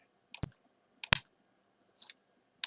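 Mouse clicks stepping through video frames, three sharp close clicks spaced about a half second apart plus a softer one, over near silence.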